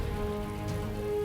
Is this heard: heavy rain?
yes